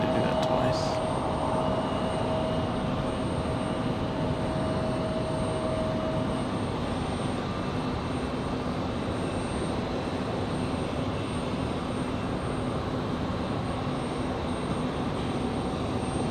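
An aircraft taking off at Raleigh-Durham International Airport produces a steady, distant engine roar that holds evenly and fairly quietly throughout, with no talk over it.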